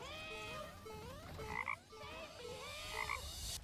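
Repeated frog croaks from the video game Deadlock, in two bursts of rising, warbling calls with a clear, synthetic quality, loud and upfront with no talking.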